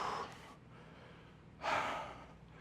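During a home HIIT lower-body workout, a person takes two deep breaths, a long exhale followed by a strong inhale or exhale after a short pause, close to the mic and alone.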